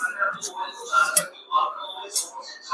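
Prawn curry in a pan stirred with a spoon after coriander goes in, giving light scraping clinks and utensil taps against the metal in an irregular rhythm, fairly close and moderate in level, with faint background voice.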